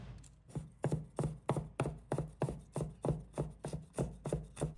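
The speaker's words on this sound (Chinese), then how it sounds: "一小块生姜，把它切成末" Knife mincing a small piece of ginger on a cutting board: a steady run of about a dozen evenly spaced, close thuds, each chop crisp and moderately loud.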